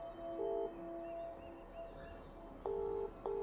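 A telephone dials out to a church with a series of clear electronic keypad tones, a couple of short beeps followed by longer steady tones, heard close and otherwise quiet.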